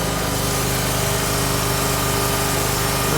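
A post driver machine's engine runs loud and close with a continuous buzzing, vibrating drone, steady throughout with no talk.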